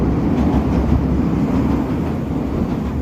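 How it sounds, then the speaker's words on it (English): A train rumbles past on a Chicago rail line on a city street, a steady dense roar with faint rhythmic clatter, close and continuous, with no voices. "Here's the train. Here's the train. There it is."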